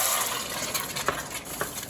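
Whole peeled tomatoes hit hot oil infused with peppers, a loud steady sizzle with spattering crackles and a few sharp pops, heard close with no talk.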